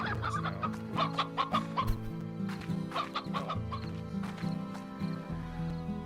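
Chickens clucking in Slime Rancher, bursts of quick clucks and squawks in clusters over looping game music.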